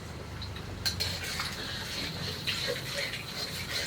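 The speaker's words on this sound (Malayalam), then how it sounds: "എല്ലാം ചേർത്ത് നന്നായിട്ടൊന്ന് സ്ക്രാമ്പിൾ ചെയ്തെടുക്കുക." Eggs are scrambled in a bowl with salt and pepper, giving light, irregular clinks and soft scraping strokes of a utensil against the bowl, fairly faint against room noise.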